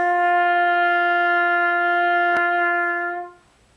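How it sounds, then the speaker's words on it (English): A trumpet holds a single open G note with no valves pressed, a steady, bright and harmonically rich tone sustained for about three seconds before tapering off, with a brief click partway through. "So the first note is that I'm going to play for you is the G"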